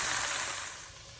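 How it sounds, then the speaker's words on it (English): Lean sausage browning in a frying pan gives a steady broadband sizzle that is close and fairly loud, easing slightly toward the end, with no talking. "you guys can see the sausage is just about browned"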